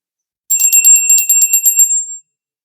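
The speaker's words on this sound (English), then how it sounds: "We're going to go ring the bell" A small bell rung repeatedly in a quick, bright jingling run lasting under two seconds, clear and close, marking the start of a tarot card reading, with no talk.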